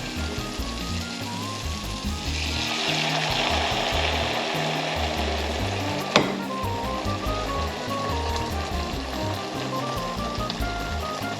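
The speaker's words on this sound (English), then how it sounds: "We're going to take all of our liquid that we have just boiled out from the rhubarb, and we're going to add it into this pan." Boiled rhubarb liquid poured into a hot pan for a veggie and rhubarb puree, giving a steady, loud sizzling hiss that runs throughout, with one sharp clink partway through.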